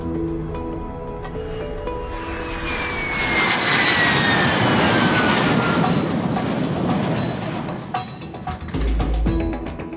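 An F-16 jet and a tanker aircraft roar during aerial refueling, a loud, continuous engine rush that swells and falls in pitch over several seconds before easing off.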